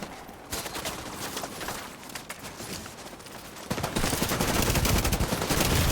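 Automatic weapon fire in The Division 2, rapid bursts of shots that grow into heavier, louder sustained gunfire toward the end.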